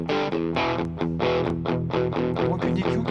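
Electric guitar through a crunch distortion tone recorded in Reaper, loud chugging chords struck in a quick rhythmic pattern with bright overdriven harmonics, heard alone without talk.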